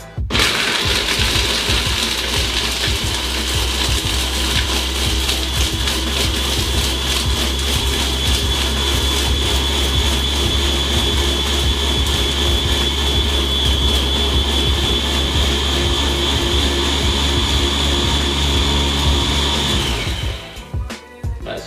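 A blender runs continuously for about twenty seconds, loudly whirring as it blends a frozen Vimto slush cocktail with ice, then cuts off abruptly near the end.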